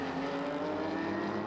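A Nissan GT3 race car accelerating hard during qualifying at Suzuka, a loud, steady engine drone held close throughout.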